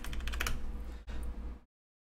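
Rapid typing on a computer keyboard, a dense close clatter of keys for about a second and a half, with a brief pause midway before stopping abruptly into silence.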